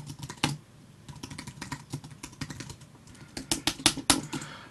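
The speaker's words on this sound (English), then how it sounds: "Sorry for bashing on that keyboard." Hard, fast typing on a computer keyboard very close to the microphone, with an irregular clatter of sharp key strikes that grows heavier and louder toward the end.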